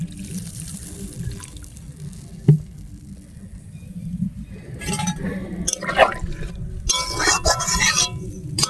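Water is poured into a simmering curry in a pot: a single clink, then bursts of splashing and trickling liquid through the latter half over a steady low kitchen rumble.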